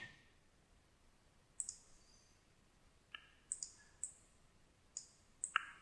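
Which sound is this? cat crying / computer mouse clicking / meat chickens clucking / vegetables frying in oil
computer mouse clicking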